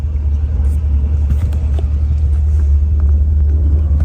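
A Chevrolet muscle car engine idling, a loud steady low rumble that holds evenly from start to finish, close by, with faint clicks and noises over it.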